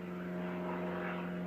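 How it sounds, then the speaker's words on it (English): A propeller airplane drones overhead in a steady, sustained hum at moderate loudness, with no voices. "sorry about the plane, had no idea that anything was coming over that line"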